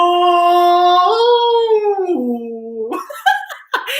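A human voice imitates a whale song with long sustained, wavering, rising and falling tones that end in a few shorter, broken swoops, loud and close.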